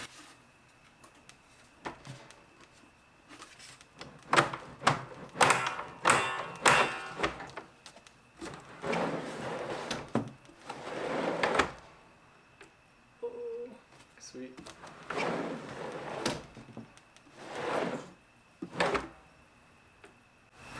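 A wooden pantry drawer with a tight fit is worked onto drawer slides, giving bursts of scraping slides and wooden knocks close by, broken by quiet pauses and some talk.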